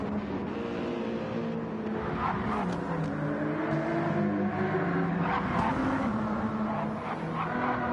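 Race cars in Gran Turismo 7 at Deep Forest Raceway, including a Lexus, drone with a continuous layered engine whine, several cars running close together at steady high revs.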